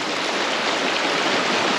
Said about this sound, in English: This is a stream that has brown trout in it.